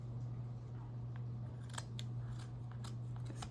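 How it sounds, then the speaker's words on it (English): Scissors snip through a thick fabric seam while a handmade sketchbook is being built, a run of short crisp cuts in the second half over a steady low hum. "cut this weird seam off"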